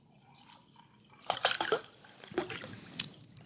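Water poured into a mug close to the microphone, heard as a few bursts of splashing and trickling with short pauses between them, fairly loud and near.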